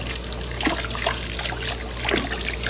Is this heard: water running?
yes